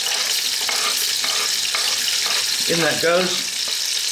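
Lamb and garlic sizzle in a hot pan over above-medium heat, a steady close crackling hiss with a few soft stirring knocks, and someone speaks briefly partway through.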